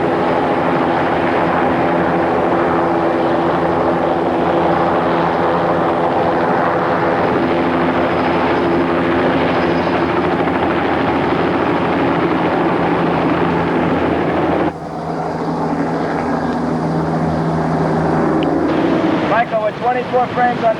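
Helicopters flying over a river on a film set, a loud sustained rotor and engine roar that holds steady and shifts briefly near the end, with voices faintly mixed in.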